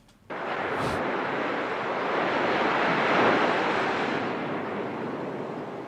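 Ocean waves wash steadily onto a sandy beach in a continuous loud roar of surf, swelling slightly in the middle, with wind buffeting the microphone.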